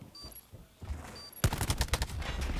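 A rapid burst of automatic gunfire rips through a wall during a pro Call of Duty match, with loud, closely spaced shots that start suddenly after a quieter lead-in of faint game noise and continue to the end.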